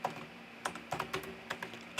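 Keys tapped on a computer keyboard to type a short region name, a quick irregular run of light, close clicks heard alone with no voices.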